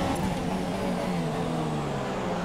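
Formula 1 cars in the F1 2017 racing game roar down a front straight, a steady loud engine whine with a slowly falling pitch sustained throughout.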